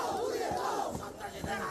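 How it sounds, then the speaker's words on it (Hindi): A huge crowd of thousands roars and shouts during unrest in Bangladesh, a dense, continuous mass of voices with surging peaks, loud and enveloping. "हजारों लोगों की भारी भीड़।"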